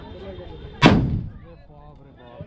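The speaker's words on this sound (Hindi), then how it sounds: "तो गाइस अभी बम लगेगा यहाँ पर" A firecracker bomb bursts once with a loud, sharp bang at a village wedding procession, followed by a rumbling decay and crowd noise and voices in the background.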